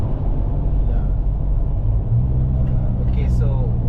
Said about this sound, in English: I'm driving down the highway from Subang to Taman Perindustrian exit